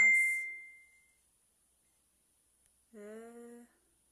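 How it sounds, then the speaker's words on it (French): A phone app notification sounds as a bright chime that rings out and decays, followed by a short tonal alert a few seconds later, each standing alone in near silence. "J'ai des notifications qui apparaissent, mais de d'autres applications."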